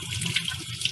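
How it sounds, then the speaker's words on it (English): Peppers are rinsed under a running tap in a kitchen, a brief steady splash of flowing water close by. "If there's any dirt on your pepper, just rinse it off."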